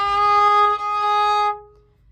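A bowed string instrument sounds a G sharp, held steadily for over a second in a clear, close, solo tone, then stops cleanly; no talking.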